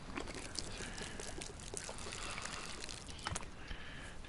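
Water splashes and trickles steadily as a container is emptied at a water pump in DayZ, a continuous faint pouring with small spattering bursts.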